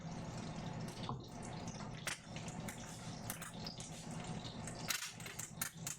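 Water poured into a drinking glass at a dinner table, a soft continuous trickle and splash with small clinks, fairly quiet and close.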